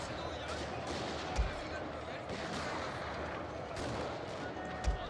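Troops fire in a Shogun 2: Total War battle, a dense distant crackle of massed gunfire with two sharper, louder reports standing out, all under a steady battle din.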